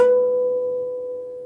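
One plucked guitar note, slid up the G string to the 16th fret in a riff, rings out close and clear, fading gradually alone.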